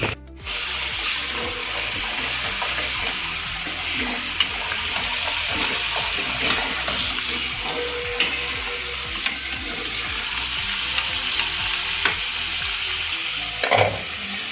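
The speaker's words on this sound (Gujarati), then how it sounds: "થોડી થોડી આપણે આની અંદર એડ કરી અને ફ્રાય કરીશું" Potato pieces deep-fry in hot oil for a street-style Indo-Chinese crispy chilli potato, giving a continuous close sizzle with occasional stirs and light clinks, and no talking.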